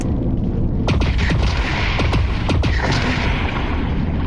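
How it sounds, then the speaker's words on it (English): Bursts of gunfire in the video game Lone Echo 2, several sharp shots and short volleys popping over a steady loud background hum, fairly close and irregularly spaced. "Oh, they're shooting."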